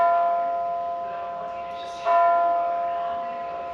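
A bell chimes during a yoga class, its ringing tone sustained and slowly fading, with a second strike around the midpoint that swells briefly before decaying again.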